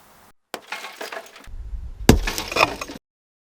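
Vehicle window glass breaking: an initial crack, then a second louder shattering burst with a crunch of fragments, close and brief.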